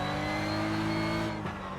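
A Porsche Cup race car in a sim racing game, engine roaring steadily at full throttle with layered harmonics, loud and close, then easing slightly near the end.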